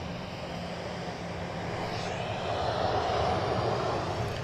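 Airplane departing Dallas Love Field, a steady broadband engine roar that holds at a constant level and swells a little toward the end, heard at a distance with no talk.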